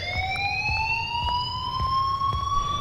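A fire alarm rings in the video game Life is Strange, a steady, slowly rising electronic siren tone that holds loud and continuous over low background rumble.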